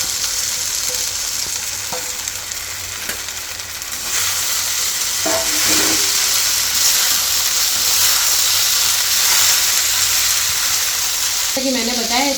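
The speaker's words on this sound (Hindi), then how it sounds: "तो अब बारी आती है पोहा डालने की। तो इसमें डाल देंगे हम पोहा।" Poha is tipped into a pan of spiced, softened tomatoes, setting off a continuous loud sizzle and frying hiss, with a few scraping stirs and clanks near the end.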